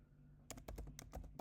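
Rapid keystrokes clatter on a computer keyboard, a quick burst of about a dozen close, crisp clicks heard at low volume with no talking.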